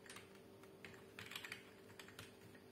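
Rapid keystrokes on a numeric keypad keyboard, a close, soft run of clicks and taps in an uneven rhythm over a faint steady hum, with no voices.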